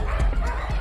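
A confined dog at an animal cruelty case gives a couple of short, muffled barks over a dense, steady background rumble.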